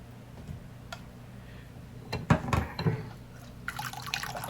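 Liquid drips and trickles from mashed potatoes squeezed in a ricer for gnocchi, soft close drips followed by a few louder splashes and a brief burst of running liquid.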